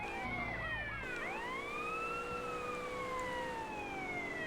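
A police car siren from the video game GTA San Andreas wails in sweeping rising and falling tones, loud and continuous, with rapid yelp-like swoops near the start before settling into slower long wails.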